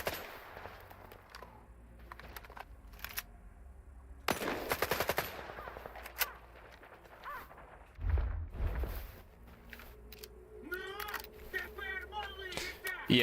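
Enemy gunfire in the video game S.T.A.L.K.E.R. 2 on Master difficulty comes as a few sharp bursts of shots, one loud volley standing out among quieter game sounds, with someone talking between them.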